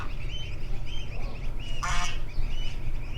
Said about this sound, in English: Mother Goose and her young.